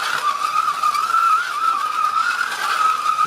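Scalextric slot cars race around a home track, giving a continuous high electric motor whine with slight rises and dips in pitch as they circle, steady and fairly loud, no voices.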